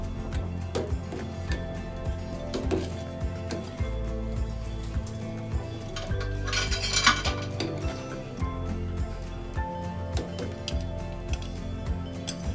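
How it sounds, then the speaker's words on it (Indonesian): Boba tapioca pearls stirred in a pot with a utensil, giving repeated scraping and light clinking strokes close by over a low steady background, no voices. "Sekali kita aduk supaya tidak lengket semuanya."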